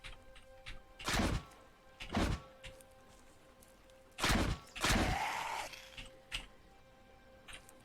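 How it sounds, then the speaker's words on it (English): A zombie in Cataclysm DDA bangs on a vehicle: four loud, broadband thumps at uneven intervals, the last one followed by a short rattling scrape, over a faint steady hum. "No idea where a previously killed zombie just popped up out of to come bang on my vehicle"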